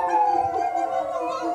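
Several performers in a group interpretation piece imitate a sustained, low, roaring howl with their voices, a wavering drawn-out tone held steadily for over a second, close and fairly loud.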